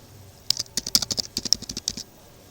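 Quick bursts of keystrokes on a computer keyboard while data is entered into SPSS, about a dozen close, crisp clicks in a fast uneven run lasting a second and a half, with nothing else heard.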